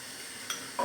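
Chopped shallot dropped into hot avocado oil in a pan gives a soft, steady sizzle, with a faint stir or clink near the end.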